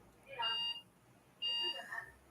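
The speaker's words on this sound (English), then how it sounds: "I got an alarm going off or something" An electronic alarm sounds indoors as two separate tonal beeps, each lasting about half a second and spaced roughly a second apart, at moderate volume over a quiet background.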